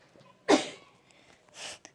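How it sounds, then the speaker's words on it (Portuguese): A woman sneezes once, sharp and fairly close, in an otherwise quiet room, followed by a softer breathy exhale. "Minha mãe espirrou."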